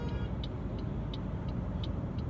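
Car passing in city street traffic, a low rumbling road noise with faint regular ticking, fairly quiet and steady, no voices.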